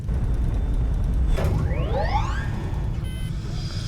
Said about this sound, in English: We do have an alarm raised